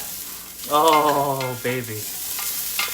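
Ginger frying in a pan as the first ingredient for a squash tomato soup, browning with a steady low sizzle while a voice briefly exclaims over it.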